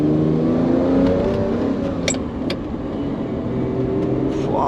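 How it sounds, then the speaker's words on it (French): Ferrari Testarossa engine revving hard close by in Monaco, a steady sustained roar that dips briefly as gears change, with sharp crackling pops between shifts. "Ouah, ce bruit quand il change de vitesse, pac pac."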